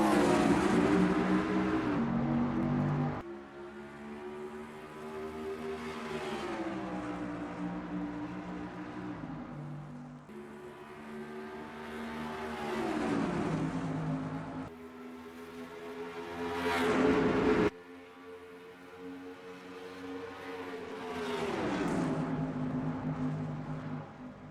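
NASCAR Racing 2003 stock cars at Charlotte Motor Speedway during the Coca-Cola 600, steady droning engine roar with rising and falling pitch as cars run laps and pass, continuous and fairly loud.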